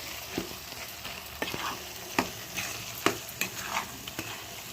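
Fried okra (bhindi) with batter being stirred in a hot pan, soft sizzling under repeated scraping strokes of a spoon at an uneven rhythm, close by with no talking.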